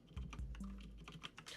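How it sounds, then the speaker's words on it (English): Fast clicking of a computer keyboard typed with long nails, a steady run of light taps that come close and are fairly quiet. "I hate typing with these nails on"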